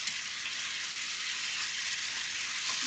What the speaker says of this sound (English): so we're going to quickly fry